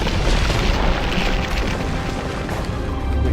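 A loud, dense explosion from The Witcher 2 fills the whole stretch with a sustained, rumbling roar that stays heavy and steady from start to finish.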